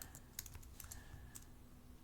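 Typing on a computer keyboard, quiet, fast irregular clicks of several keystrokes in a short burst, close but faint, with no speech.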